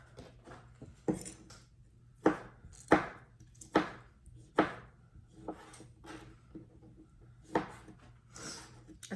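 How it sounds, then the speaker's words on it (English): A knife chops a tomato on a cutting board in a home kitchen, a series of crisp, well-spaced thuds, some single and some in quick pairs, close and clear with no talk. "It's so much more pleasant to chop up a tomato than an onion."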